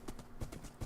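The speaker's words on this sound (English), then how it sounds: "Let's summon our horse." A horse trots along in the video game Terra Restore 2, quick faint clip-clop hoofbeats in a steady rhythm over a soft background.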